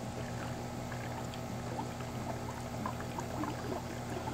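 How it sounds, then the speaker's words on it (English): Water is poured steadily into the engine of a 2013–2015 Chevrolet Malibu LT 2.5L, giving a continuous, fairly quiet liquid rush with a low hum underneath and no talking. "So I'm just going to work this water in here."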